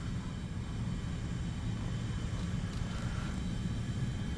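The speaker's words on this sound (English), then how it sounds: "Yes, player-controlled plane." A player-controlled plane in War Thunder drones with a continuous low engine rumble, steady and fairly loud throughout, with no voices.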